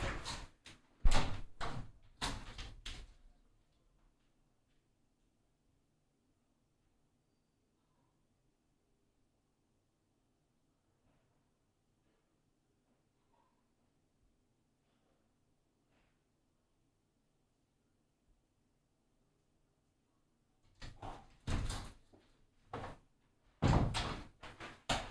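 A door opens and closes with a few sharp thunks and knocks as someone leaves, then a long near-silent stretch, then more thuds and clatter on return.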